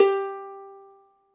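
A single plucked note on a ukulele's E string, fretted at the third fret, rings out clearly alone and decays smoothly over about a second.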